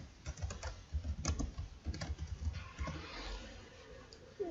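Computer keyboard typing in irregular quick bursts of soft clicks, close and moderately quiet, with no talking.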